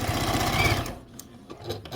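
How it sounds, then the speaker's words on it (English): A sewing machine stitches along the edge of a quilt block in a steady rapid run, close and fairly loud, then stops, leaving a few soft handling clicks and taps. "I am just holding the corners, the opposite corners tight and sewing along this edge"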